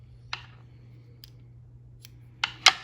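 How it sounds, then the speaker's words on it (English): Scissors snipping straight across bucktail hair for a fly-tying Deceiver, a few crisp, faint clicks spread out, the last two close together, in an otherwise quiet room. "we're going to cut it straight across"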